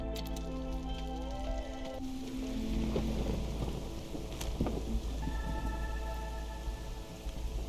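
Storm ambience from the video game Against the Storm: steady rainfall with low rumbling thunder throughout, plus a few sharp game interface tones and chimes layered over the weather.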